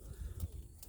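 Tippler pigeons cooing softly in cages, a few low throaty coos close by and fairly quiet, with no talk over them.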